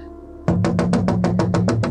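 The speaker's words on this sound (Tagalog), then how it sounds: "bigla siyang binulabog ng isang malakas na pagkatok sa kanyang pintuan" Loud, rapid knocking on a door, about ten evenly spaced heavy raps in quick succession, close and insistent over a low droning background.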